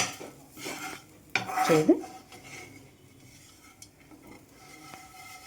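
Utensils clink and scrape against a bowl while a mixture is stirred during a kids' holiday activity at home, with a sharper burst of clattering midway and a brief spoken word over the stirring.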